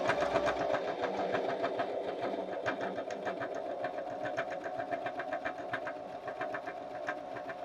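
A BabyLock Zeal BL35B sewing machine stitching, a steady close motor hum with a fast, even needle rattle running throughout.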